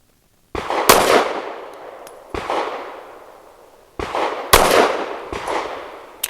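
Loud, close pistol shots from a Kel Tec P15 firing Federal 130 grain Syntec PCC rounds. Five sharp reports come in uneven spacing, each with a ringing outdoor decay, and no talking.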